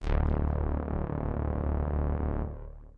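A low D note from Synth1's initial preset sustains as a harsh, buzzy, harmonically dense tone for about two and a half seconds, then cuts off and decays briefly.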